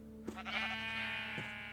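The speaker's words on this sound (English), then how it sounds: "I'm going to have to go and slaughter those sheep" Sheep bleat in Minecraft running the GregTech New Horizons modpack: two close, clear, wavering bleats, the first drawn out and the second shorter, against a steady low hum.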